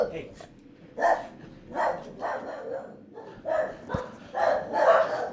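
Dogs bark in a string of bursts, roughly one every half second to a second. The barking is fairly close and loud, and it mixes with people talking nearby.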